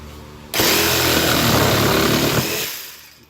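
A power saw rips loudly into wood, cutting a notch for a floating shelf, one steady cut lasting about two seconds before it winds down and stops.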